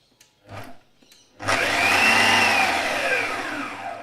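Magimix food processor on its smoothie setting blending Malaysian chicken curry, a couple of short pulses followed by a loud sustained whirring motor with a rising then slowly falling pitch, close by.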